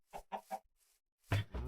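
A Minecraft chicken clucks three short times in a quick row, goes quiet briefly, then gives a louder, fuller double cluck, close and clear with no talking.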